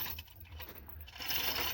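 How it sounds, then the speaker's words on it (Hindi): A chain pulley hoist slowly lifts a heavy submersible pump motor up out of a farm borewell, giving a continuous metallic rattling and clinking of chain links at close range, with no voices. "चैन कुप्पी से खींचनी है ऐसे"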